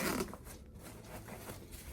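A zipper being drawn open on the top compartment of a tactical range backpack, a close, continuous rasping pull lasting about two seconds, quiet, with no talk.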